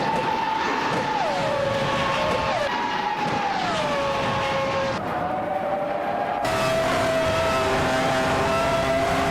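Race cars in a game roar past one another in a continuous loud engine whine that shifts pitch as they overtake, steady and close with no talk.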